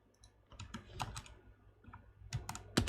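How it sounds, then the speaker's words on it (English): Quiet typing on a computer keyboard, a loose run of soft clicks and key taps at an uneven pace, faint and close. "Let's type that in right now."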